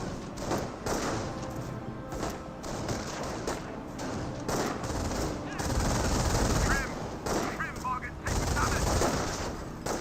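Dense gunfire and bursts in Company of Heroes 1, a World War II strategy game, with Volksgrenadiers and a Schwimmwagen under fire; rattling shots and thuds run steadily throughout amid battle noise, with faint voices in the mix.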